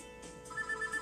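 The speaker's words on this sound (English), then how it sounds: "my phone starts to ring" A phone in a video game starts ringing: a short repeating electronic ringtone pulses over a busy musical background, moderately loud and brief.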